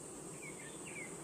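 Honeybees swarm densely around a beehive in a summer apiary, a steady close buzzing hum with a few higher wingbeat whines drifting past, no voices.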